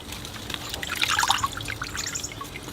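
A bonsai root ball from a Ficus religiosa being swished around in a tub of water, giving soft sloshing and trickling splashes that swell briefly in the middle and then settle, fairly quiet and with no talking.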